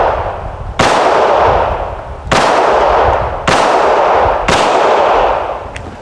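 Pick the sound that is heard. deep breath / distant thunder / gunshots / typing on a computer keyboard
gunshots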